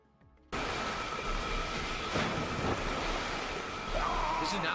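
Game audio of a character wading in water: a steady, loud wash of surf-like noise starts abruptly after a brief quiet moment and holds throughout, with a soft rising whistle near the end.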